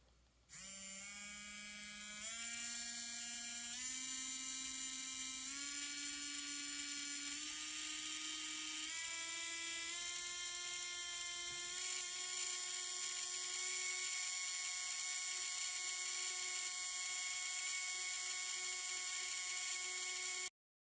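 A Carrera slot car motor whirs steadily as a wireless controller steps it up, its high electric whine climbing in distinct pitch stages over about twenty seconds, close and loud with no talking.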